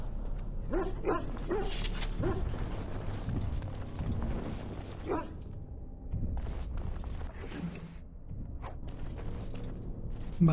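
Dogs bark in the video game Dragon Age Origins, repeated yaps and woofs over a busy game soundscape with footstep-like clops and ambient noise, no talk.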